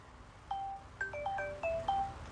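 Mobile phone ringtone going off during a Filipino radio or broadcast program on health and livelihood, a series of short melodic electronic tones in quick succession, fairly clear over a low background hum.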